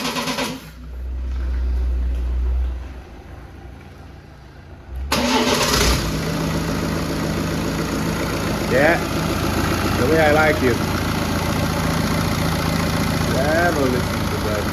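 A BMW N47 diesel car engine cranks and catches after a brief quiet, then settles into a steady idle, with someone talking over the running engine.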